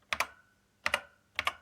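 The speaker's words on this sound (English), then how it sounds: "note the lovely 80s keyboard there with the nice feel" Keys pressed on a 1980s Acorn Electron computer keyboard, three close, crisp pairs of clacks spaced roughly half a second apart in a quiet room, with no talking.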